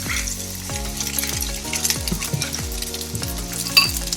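Sago grains are stirred into crisped, lightly browned potatoes frying in a pan, a steady loud sizzle under repeated scraping, clinking strokes of a spoon roughly every half second.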